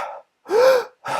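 A single sharp, loud gasping breath drawn high into the chest, shown as an example of ineffective breathing, standing alone between short bursts of breathy noise.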